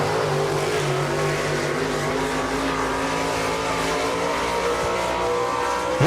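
A race car powering out of turn four on a track, a steady loud engine drone holding near and constant throughout with no voices.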